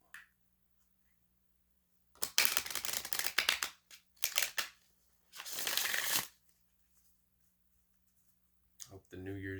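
Oracle and tarot cards shuffled by hand in three or four loud, close, riffling bursts separated by quiet pauses, with a brief voice near the end.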